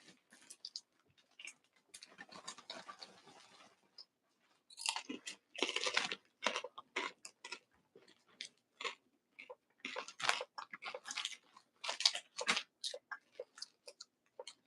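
A crunchy snack is chewed close to the mic in quick, crisp bursts. Short pauses fall between mouthfuls, and no talking is heard.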